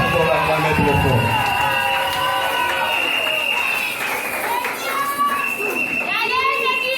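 A large gathering at a diploma ceremony for orators, lively cheering and acclaim carrying loud, high excited voices, mostly children's, shouting and calling together continuously.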